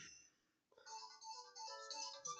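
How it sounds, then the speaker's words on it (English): A phone notification chime rings out clearly, a bright tonal jingle that starts after a short pause and holds for a couple of seconds, sounding alone. "My fucking phone notification"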